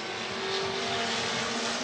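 Toyota Camry pace car on a race track at Long Beach, a steady loud engine drone with broad roaring noise, continuous and close with no voices.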